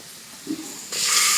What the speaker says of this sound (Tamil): இப்போ வந்து நம்ம தக்காளியை சேர்த்துப்போம்.